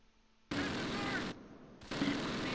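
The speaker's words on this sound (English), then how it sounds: "Machine gun right in front." Machine-gun fire in the World War II game Close Combat, near Barenton in 1944: two loud, dense bursts of rapid fire with a short gap between them.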